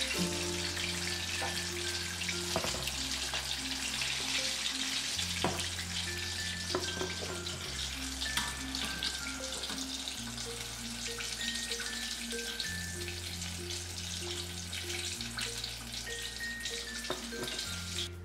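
Spicy broasted chicken pieces frying in hot oil, a steady dense sizzle with crackling pops throughout, heard alone under a repeating musical backing.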